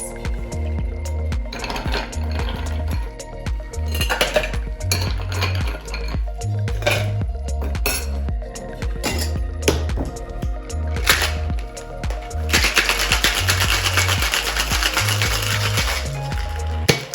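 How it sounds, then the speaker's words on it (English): Ice rattles hard inside a metal cocktail shaker while a margarita is mixed, a loud, rapid, rhythmic clatter in bursts that pauses briefly and then builds to a denser, continuous shake near the end. "Now all we have to do is add some ice and shake this up for about 10 seconds."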